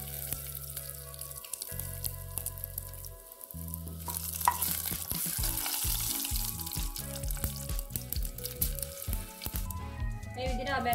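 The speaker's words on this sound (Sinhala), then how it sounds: "දැන් අපි රත් වෙන තෙල් එකට අබ ඇට තේ හැන්දක් විතර එකතු කරගමු." Mustard seeds and dried chili hit hot oil, bringing a rising crackling sizzle with stirring and some water noise. Music plays loudly beneath throughout.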